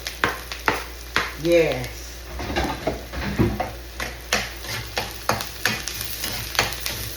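Garlic and onion sauté in a hot pan for arroz a la cubana, a steady sizzle broken by repeated scraping stir strokes, with a brief spoken word partway through.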